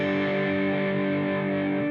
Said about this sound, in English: Then once again strum one time in a downward motion from your D string down